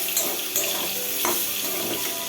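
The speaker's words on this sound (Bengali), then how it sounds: "মাছটা ভাজ দিয়েছি" Steady, loud sizzle of American rohu fish frying in oil, with a few crackles and pops along the way.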